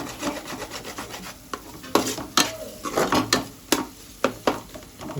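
Telangana fish curry stirred in a thick-bottomed pot, a ladle scraping and rubbing against the base in repeated strokes with soft sizzling underneath, close and fairly loud, with no voice.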